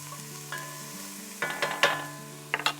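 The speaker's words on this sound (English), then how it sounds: "Now we're going to just stir this up, and we'll saute this for a few minutes" Vegetables are stirred and sautéed in a pan before a round roast goes in for browning, a soft sizzle under a low hum with several sharp scraping and clacking strokes from the stirring.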